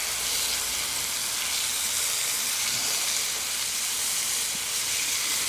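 Picanha steaks sizzling on a Blackstone griddle just after being flipped, a loud, dense, constant hiss of frying fat heard close up with no voices.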